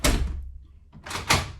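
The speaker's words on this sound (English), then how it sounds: "we can shut the door to test that it's going to work properly" A door fitted with a Blusafe Origin Smart lock swings shut, a close, heavy thud followed by a brief pause and a second solid knock of the latch settling.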